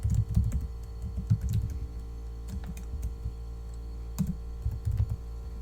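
Quick bursts of keystrokes on a computer keyboard as a name is typed, close and crisp, in short irregular clusters separated by pauses.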